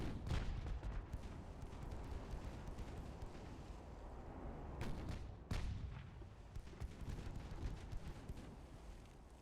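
Naval guns boom in the warship game Ultimate Admiral: Dreadnoughts, with a heavy opening blast followed by scattered salvos and sharp reports over a continuous rumbling battle backdrop.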